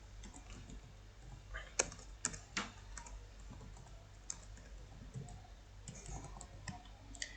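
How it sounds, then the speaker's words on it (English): Typing on a computer keyboard, a steady run of quiet clicking keystrokes with a few sharper, louder taps standing out, close and alone with no talk. "So I'm just going to type it."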